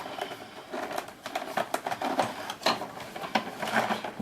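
A vintage 1994 Hoover Turbopower 2 bagged upright vacuum cleaner being tipped back, giving close plastic clicks, knocks and rattling handling noises in an irregular patter without talk.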